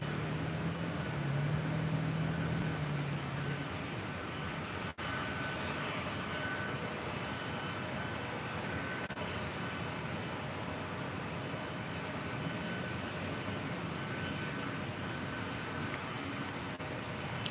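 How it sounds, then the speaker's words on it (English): A Delta Airlines Boeing 757-200 departs LAX with a continuous broad jet roar that holds steady and fairly loud for the whole stretch, with no talking over it. "That is Delta Airlines Flight 677. It will be heading to Boston in a 757-200."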